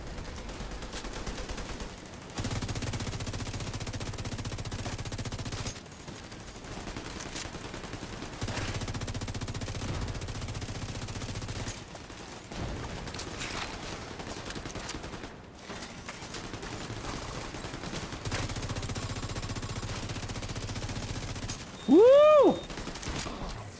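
Sustained rapid gunfire from a gun in The Division 2 video game rattles almost continuously and is broken by brief pauses. A man gives a short excited shout near the end.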